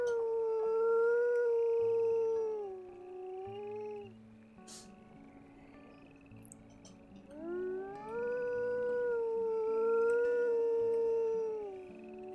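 A wolf howls in the video game WolfQuest: two long, rising and falling howls with layered voices, separated by a short pause, loud and close over a quiet wilderness ambience.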